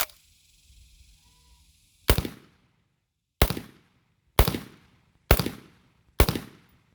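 Five loud, crisp rifle shots from a Kel Tec RDB bullpup fired from a kneeling position outdoors, evenly spaced about a second apart after a quiet lead-in, each with a short decaying echo.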